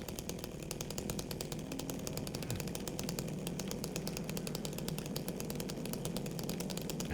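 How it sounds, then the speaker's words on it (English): A chainsaw in Silent Hill 2 Remake idles and rattles steadily throughout, a loud continuous buzzing engine drone with fast rhythmic chatter and no voices. "when you're using the chainsaw in the remake"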